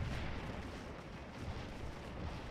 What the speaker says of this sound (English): being out here taking all the cannon fire